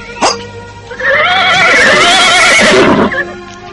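A horse neighs loudly and close by in a long, wavering whinny after a short snort, with a hoof clop near the start.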